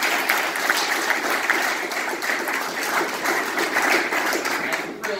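A crowd at an Iowa campaign stop for Congressman David Young applauds the governor, with sustained steady clapping and a few cheers, loud and close throughout.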